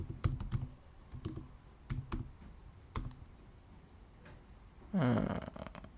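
Rapid, irregular clicks of fingers typing on a computer keyboard while writing Python code, close and fairly quiet, with a pause and then a brief louder rustle at the end.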